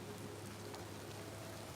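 Steady rain falls outside in a continuous broadband hiss, low and even throughout, with no talk over it.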